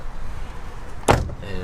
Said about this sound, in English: Let me close the door